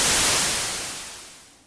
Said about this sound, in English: we're mostly just hearing white noise and some panning